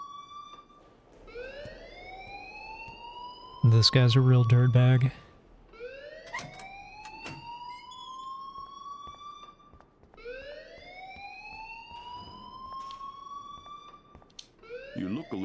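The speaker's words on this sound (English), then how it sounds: "please turn off that alarm since that's your job" A rising electronic alarm tone repeats in a loop in the video game Life Is Strange Remastered, with a brief burst of spoken dialogue breaking in partway through.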